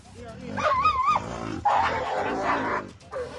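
Pet dogs in Qazigund, Jammu and Kashmir, fighting a leopard let out agitated, wavering yelps, whines and sharp barks in quick, irregular bursts, close and loud.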